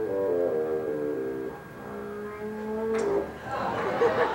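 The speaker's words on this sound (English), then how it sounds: "Low B flat, lowest note on the bassoon." Bassoon sounding a low, buzzy, reedy tone that wavers and shifts over several seconds in a room, fairly soft, with brief noise near the end.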